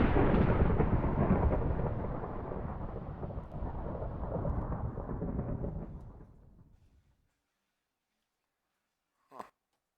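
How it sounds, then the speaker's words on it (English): Thunder rumbling from lightning in the Minecraft modpack FTB Infinity, a loud, broad roll that fades out over about seven seconds, followed by silence and a short faint tap near the end. "I like the lightning for now"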